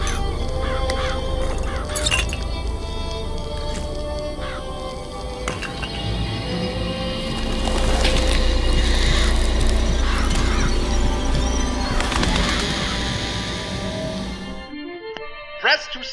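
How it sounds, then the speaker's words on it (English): Murderous crows summoned by a vigor in BioShock Infinite burst out in harsh cawing and flapping. The calls come in repeated loud, layered bursts that swell midway and cut off abruptly near the end. "Press to summon murderous crows."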